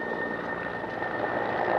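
Firefighting helicopters work over a burning pine forest in Navarra's Carcastillo, their steady rotor and engine drone holding close and constant throughout with no let-up.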